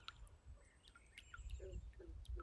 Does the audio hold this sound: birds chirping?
yes